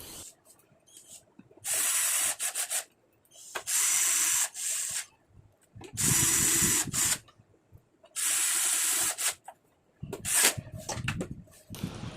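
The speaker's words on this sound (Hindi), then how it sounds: "और अब बैक कवर के सभी स्क्रू को लगा देते हैं।" Screws are driven into the back cover of an LED monitor with a power screwdriver, several loud whirring bursts of a second or so each, separated by short pauses and faint handling clicks.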